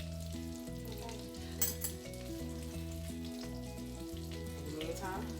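Stuffed potatoes fry in hot grease with a constant crackling sizzle and some stirring. Music sits loud over the frying, and nobody speaks.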